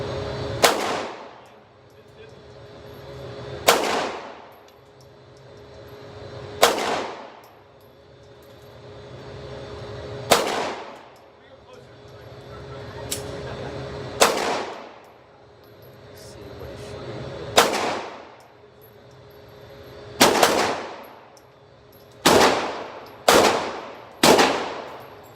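Gunshots at an outdoor shooting range, ten rounds fired one at a time: loud, sharp cracks spaced a few seconds apart, quickening into a tight cluster of shots near the end, each followed by a short ringing decay.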